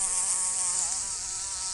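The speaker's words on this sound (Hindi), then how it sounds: "OMG, it is a bee." Close, steady buzzing of a bee with a wavering drone that rises and falls slightly as it moves, heard alone without any talking.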